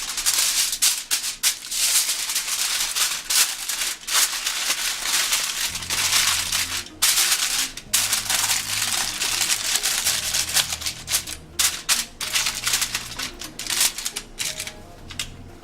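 Aluminium foil crinkles and crumples loudly and continuously as it is folded and wrapped around grilled tilapia fish, a dense crackling texture with brief pauses and sharper crunches, close up and alone.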